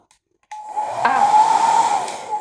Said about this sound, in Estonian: Nii fööni võtmine.